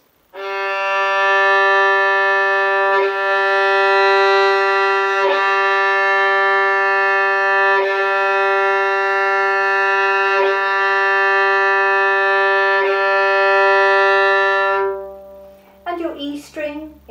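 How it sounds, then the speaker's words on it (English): A low, sustained bowed violin note on the open G string rings steadily for around fifteen seconds with slight bow-change pulses before it ends, followed by a brief voice. "Your G string should sound like this."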